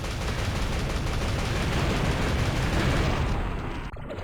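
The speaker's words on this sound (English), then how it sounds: "the Boomstick still has a fairly fast rate of fire, consumes 1 shell per shot" Rapid Boomstick shotgun blasts in a multiplayer shooter game merge into a dense, loud, continuous barrage of gunfire that cuts off abruptly near the end.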